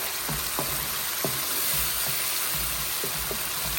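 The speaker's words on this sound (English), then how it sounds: "Now I'm going to add the garlic." Garlic fries in a pan for pasta with a steady, close sizzle, with light stirring knocks and scrapes spread through it.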